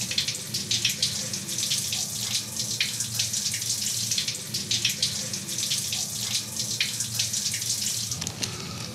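A shower runs in a shower cabin, a steady hiss of spraying water with small splashing variations, close and continuous throughout with no talking.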